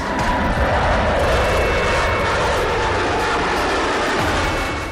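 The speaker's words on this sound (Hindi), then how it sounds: "एरो शो में तेजस के साथ US एयरफोर्स के B-1B long range supersonic heavy bomber aircraft ने भी उड़ान भरी।" A US Air Force B-1B long-range supersonic heavy bomber flying over the Aero India 2021 air show, a loud, sustained jet engine roar that stays steady and powerful, near and continuous throughout with no voices.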